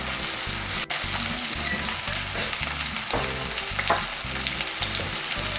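Cod fillets frying in a pan give a steady, dense sizzle with some crackle and a faint clink, close and continuous, with no talking.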